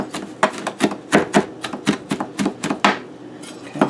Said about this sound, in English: Now I'm going to give that rosemary a little bit of chop.